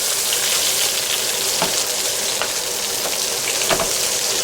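Flipped burgers sizzle in hot oil in a pan, a steady bright crackling hiss with occasional sharper pops, close and fairly loud, with no talking.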